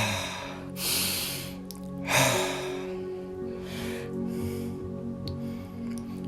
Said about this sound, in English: let's breathe fully into your body